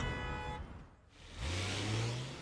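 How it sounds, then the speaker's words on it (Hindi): Car engines idle and rumble in a morning traffic jam, a steady low drone that dips briefly before a nearby engine revs up and holds a rising hum. "अब हमें बस सुबह के ट्रैफिक जैम से निकलना होगा।"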